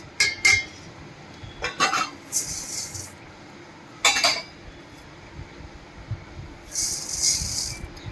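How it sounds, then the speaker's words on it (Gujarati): Dry rice tipped into a metal kitchen vessel while preparing idli and dosa batter, with clinking bursts and a scattered rattling pour, followed by brighter metallic clatter near the end. "बीजा वासणमां आपणे आ चोखा एड करी देशुं।"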